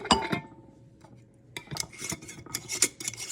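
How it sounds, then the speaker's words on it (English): A lid set onto a jar of sourdough starter: a sharp clink, a short pause, then a run of scraping, rattling clinks as it is twisted and seated, close and clear. "And then we're going to cover that with a lid."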